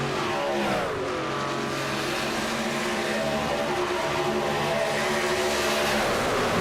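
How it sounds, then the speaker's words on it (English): Race cars at a speedway in a VSpeed Contender Series event roar loudly past, engines revving with a rising and falling pitch as they sweep by the microphone. "Amazing speedway driving tonight."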